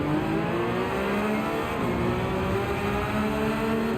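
A racing car engine at Suzuka in Gran Turismo 7 holds a loud, sustained high-revving drone with slowly shifting pitch, close and continuous, with no voices over it.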